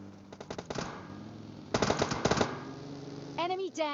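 Pistol gunfire in the mobile battle-royale game PUBG Mobile Lite: short bursts of sharp, rapid shots in two clusters, moderately loud, followed by a brief warbling game effect at the end.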